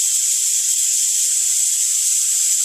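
Steam hisses steadily and loudly from the pressure-release valve of an Instant Pot electric pressure cooker after about four minutes of warming, a continuous bright rushing noise with no pauses and no voices.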